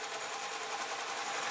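A sewing machine stitches a satin apron with piping in a fast, even whirring run. The needle's rapid rhythmic chatter holds steady at close range.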